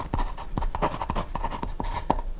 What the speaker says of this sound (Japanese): それでは書いていきましょう。